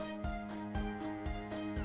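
A cat's meow from the video game Desktop Survivors 98 repeats in a steady looping rhythm over tonal game music, clear and upfront with no talking.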